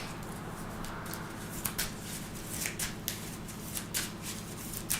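Playing cards from a Marvel Champions game are shuffled back into the deck by hand, giving close, quick bursts of riffling and soft slaps that repeat in an uneven rhythm.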